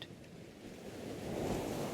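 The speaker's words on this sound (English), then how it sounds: "The sound of the waves lulling him into a deep, peaceful" Ocean waves wash in as a soft, low surge that swells gently toward the end, faint and distant, with no voices.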